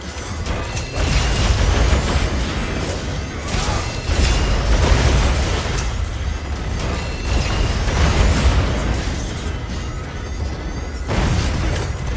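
A mustard bomb going off in a video game, with a long, loud rumbling blast and crashing debris layered over several seconds, dense and sustained with bright sweeping tones.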